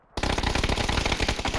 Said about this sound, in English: Lots of indiscriminate shots.